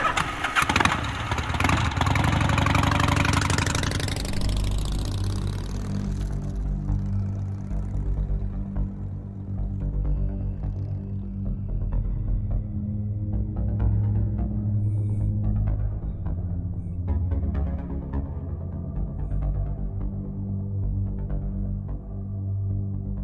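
Car engine in Gabriel Knight 3 as two women drive around a valley: a loud start with broadband roar in the first few seconds, then a steady low mechanical rumble with a harmonic hum that continues alone to the end.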